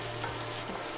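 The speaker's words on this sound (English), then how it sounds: "We just want them to saute a little bit." Shallots sautéing in a pan over lowered heat, a steady soft sizzle with faint stirring scrapes, continuous and close with no voices.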